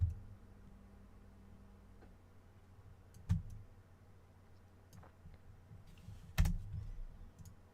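Scattered, faint computer keyboard key presses during thumbnail editing in a quiet room, a few isolated sharper clicks standing out from a low hum.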